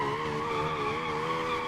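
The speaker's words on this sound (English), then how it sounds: "We'll clutch kick it here and just let it bounce on limiter, do a little burnout." Steady, loud tire squeal from a car doing a clutch-kicked burnout while bouncing on the rev limiter in BeamNG Drive, a continuous high screech layered over engine drone with no pauses.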